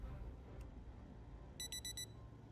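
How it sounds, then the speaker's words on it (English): A digital watch alarm goes off in a video game, a short burst of four quick, high electronic beeps heard faintly over a low background hum, preceded by one lone beep. "So you hear an alarm from a digital watch."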